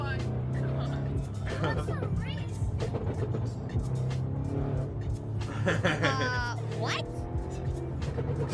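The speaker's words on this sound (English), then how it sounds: "This driver got a police officer to race him" Racing cars, a driver racing a police officer: engines roaring and tires squealing in sharp bursts, loud and close, under excited talk.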